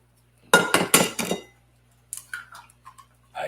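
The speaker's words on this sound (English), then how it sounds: "throw another 3 eggs in there" Eggs cracked one after another into a pan for a sausage omelet, four sharp close knocks and clinks in quick succession, then lighter scattered taps and a soft shuffle as the shells drop, with a low steady hum beneath.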